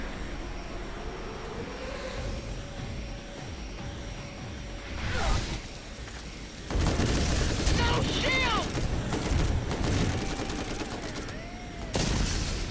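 Alien gun firing in the video game Borderlands, with bursts of sharp electronic shots and crackling impacts among mechanical game sounds, growing louder in the later stretches.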